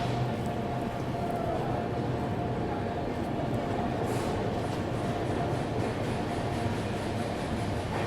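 A train runs into Asansol station about 15 minutes late, giving a moderate, continuous rumble of rolling wheels with a faint hum and brief squeal, with no voices over it.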